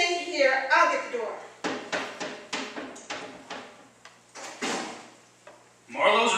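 Door being opened in an old radio drama, a run of clicking, knocking handling sounds from latch and knob, with voices speaking before and after.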